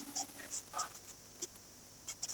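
A pen scratches out a handwritten answer during a maths lesson, in short irregular strokes and taps with pauses between them, close and quiet, with no talk.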